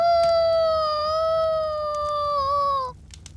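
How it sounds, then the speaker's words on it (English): A single long wolf howl holds one steady, slightly wavering tone for nearly three seconds, loud and clear, then breaks off abruptly. "Somehow the howling had seemed sad."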